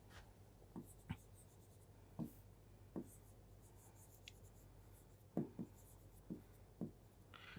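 Chalk or marker strokes on a classroom board come as short scratchy taps in irregular bursts, faint and close, with quiet room tone between them.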